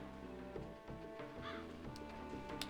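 A bird cawing in the video game Breath of Fire 4, a single crow-like caw rising briefly midway over a dense, sustained music bed, fairly soft.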